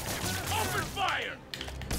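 Gunfire bursts in Spider-Man PS4, a quick rattling fusillade mixed with game sound effects and a voice talking over it.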